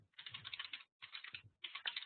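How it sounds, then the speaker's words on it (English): Bursts of rapid keystrokes on a Finnish computer keyboard, three runs of close, crisp clicking separated by brief pauses. "I'm using a Finnish keyboard, and sometimes I mistype"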